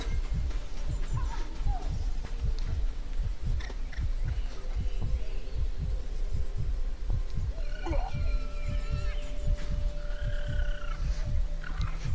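Poison frogs in the Soulmask video game croak in a steady, regular pulse of low throaty calls, close and repeated throughout, with faint game effects chiming over them.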